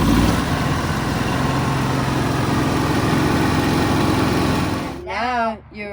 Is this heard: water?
no